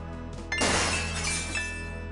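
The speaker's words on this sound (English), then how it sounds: "There's a faint sound of breaking glass" Glass shatters loudly in the Gabriel Knight: Sins of the Fathers game, a sharp crash followed by a scattering tinkle of shards that rings out for over a second over a low steady hum.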